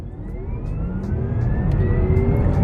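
A Porsche Taycan Turbo electric car launches hard in a 0-60 mph run, its motor whine rising steadily in pitch under a loud rumble of road and tire noise, with no voices.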